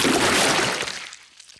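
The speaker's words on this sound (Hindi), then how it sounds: "पेपा ने गंदा पानी पूरी गाड़ी के ऊपर फेंक दिया" Cartoon splash of dirty water thrown over a car, a single broad whooshing splash that starts loud and fades out over a second and a half, heard alone.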